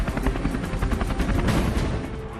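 Military helicopters thump with a loud, steady rotor beat and engine roar, continuous and close, with no voices.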